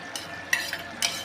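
Carrot halwa with ghee-fried cashews and raisins being stirred in a pan, with a few soft scraping strokes over a faint sizzle.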